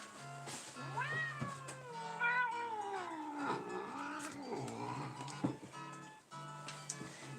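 A grumpy pet cat meows and yowls in long, rising and falling wails, close and fairly loud, one drawn-out complaint after another with short pauses between.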